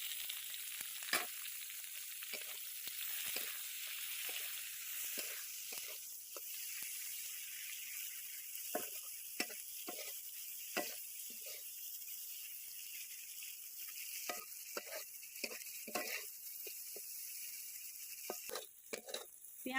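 Chopped onions fry in a pan with dried red chillies, a steady sizzling hiss carrying all the way through, broken by frequent short crackles and pops and now and then a stir. No one speaks.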